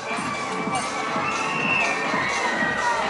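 People screaming on a fairground ride at La Ronde, a continuous mass of shrill shrieks and crowd noise from some distance, steady and loud throughout with no clear talk.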